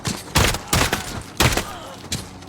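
Four loud, sharp suppressed gunshots fire at roughly regular intervals, a Modern Warfare game gun fitted with an oil filter sound suppressor, each blast close and punchy with a short decaying tail.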